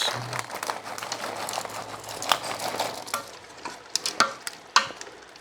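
Corn kernels being stirred into a fish stew with pressure-cooked potatoes inside a Ninja Foodi, giving a steady soft scraping and swishing with a few sharper clinks near the end.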